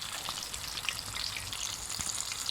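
Chicken frying in hot oil gives a steady, dense crackle and sizzle with scattered small pops, continuous and fairly close.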